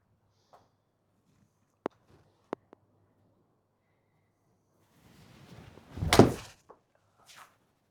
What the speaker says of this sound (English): Golf shot.